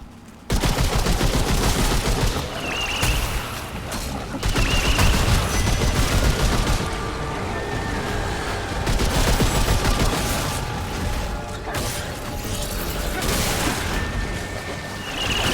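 Rapid bursts of gunfire and blasts from the video game Remnant 2, loud and nearly continuous, with dense crackling fusillades and booming hits layered over each other, and a voice briefly audible beneath the barrage.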